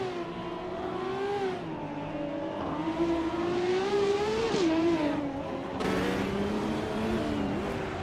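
Racing car engines from a video game start at Abisu Higashi, including a 1970 Ferrari 512, a steady close roar that rises and falls through gear changes, with a harsher burst of engine noise near the end and no talking.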